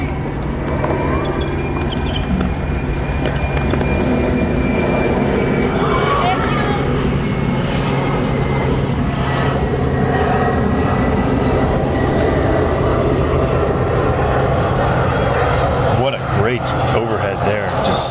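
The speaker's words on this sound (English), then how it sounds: "as a plane flies over" An airplane passes overhead at an outdoor college tennis match, a steady broad rumble holding for the whole stretch beneath a voice talking.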